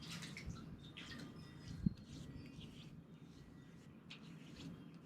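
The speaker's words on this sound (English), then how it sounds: "I'm just gonna wet my face, get my face wet before we go here" Water splashing as hands wet a face before a shave at a camp, soft scattered splashes and drips with one sharper slap, close by and fairly quiet.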